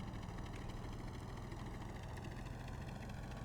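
Helicopter engines spinning up in the video game Stormworks, a steady dense mechanical drone with a strong low rumble and whining upper tones, constant and loud throughout.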